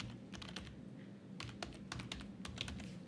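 A computer keyboard clicks in quick, uneven bursts of keystrokes as a command is typed, close but quiet over a steady low background hum.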